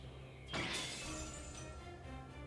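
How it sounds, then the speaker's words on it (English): A magical golden sword, Caliburn from the game Fate/stay night, shatters in one sudden, loud, bright burst of breaking metal that fades into a lingering ring under steady background music. "it shatters instantly in the face of Merodach, the original sin"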